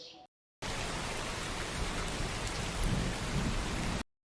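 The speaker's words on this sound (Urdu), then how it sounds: "آج جب چوہے ندی کے دوسرے پار اپنا کھانا ڈھونڈنے گئے تو اچانک سے تیز بارش شروع ہو گئی" Heavy rain pours in an animated cartoon scene, a dense, loud, continuous hiss that starts abruptly after a brief gap and cuts off cleanly at the end.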